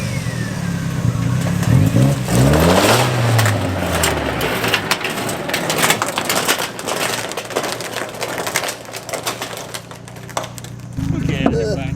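A car rolling on tires made from 55 gallon drums gives a loud, continuous metallic grinding and crunching over the engine's revving, with people talking over it throughout.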